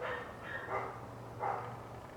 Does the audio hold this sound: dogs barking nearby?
yes